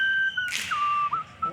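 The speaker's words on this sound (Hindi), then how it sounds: "ये सीटी क्यों मार रहे हैं?" A person whistles loudly at the river Sangam in Prayagraj, giving a long steady tone that breaks into a few short sliding notes over a faint background hum.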